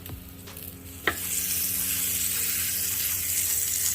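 A ribeye steak sizzles steadily in a hot pan right after being flipped, with a sharp clatter at the turn and a loud, continuous hiss that holds close and even afterward.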